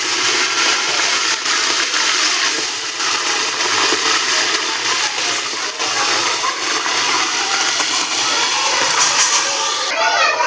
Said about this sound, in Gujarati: ચાલો જો આપણે તેલ આવી ગયું છે એમાં શાકભાજી આપણે એડ કરી દઈએ